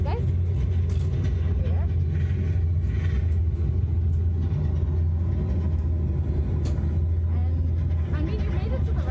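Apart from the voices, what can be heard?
airplane reverse thrusters rumbling after landing, flight simulator game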